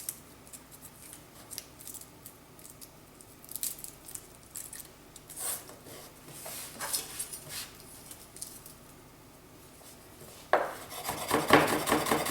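Garlic being chopped quickly on a cutting board, a run of sharp knife taps and scraping strikes, growing louder and denser toward the end, with no talking.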